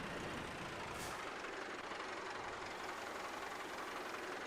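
A tractor in the video game Farming Simulator 22 runs with a steady broadband engine roar and hiss, continuous and loud throughout, with a brief higher whine near the start.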